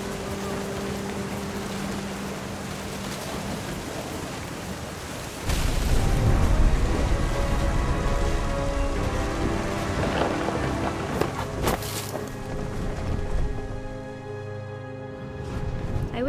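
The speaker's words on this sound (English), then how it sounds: "The thunder sounded much too close and full of angry power." Rain and rolling thunder inside the video game What Remains of Edith Finch, a steady downpour that turns heavier and more rumbling midway, with booming swells and no talk.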